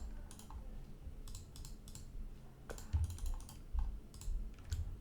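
Computer mouse clicks while playing the modded Minecraft pack FTB Interactions, a handful of sharp short clicks in irregular clusters over a quiet background, close and crisp.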